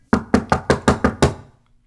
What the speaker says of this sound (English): Shouted Johnson, pounding on the door